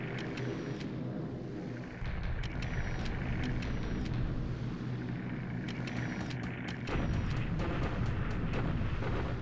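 Rumbling bomb explosions and dull booms roll on through the World War II strategy game War in the Pacific as aircraft bomb troops in China, with a heavier surge of blasts midway and no talk.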